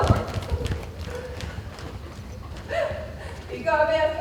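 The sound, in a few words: horse hooves clip-clopping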